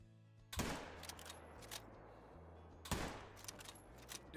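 Two sharp rifle shots ring out while hunting an animal in theHunter: Call of the Wild, each a loud crack followed by a rolling echo tail over a low ambient hum.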